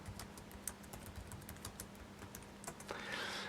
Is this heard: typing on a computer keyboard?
yes